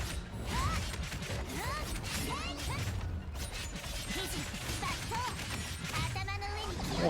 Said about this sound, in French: Bruit de chaîne.